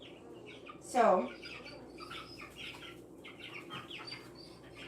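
Australorp and Jersey Giant cross hens give soft clucks and chirps, with one louder squawk and a brief wing flutter near the start, while a person talks nearby.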